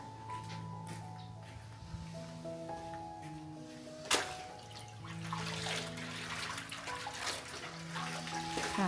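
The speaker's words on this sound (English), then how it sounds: "I take a moment to wash a few cleaning rags" Dusty cleaning rags are washed by hand in water, a soft, steady sloshing and trickling that carries on under gentle background music.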